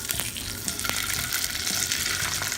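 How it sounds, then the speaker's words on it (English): Salmon fillets sear in hot oil in a cast iron skillet, giving a loud, steady sizzle and crackle with a few sharp pops and spatters all the way through. "I'm gonna go ahead and put the oil in there and add our salmon fillets"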